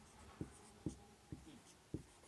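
Chalk strokes on a classroom board as the Euclid division lemma is written out, four distinct taps and scrapes at an uneven pace, close and clear over a quiet room with no talking.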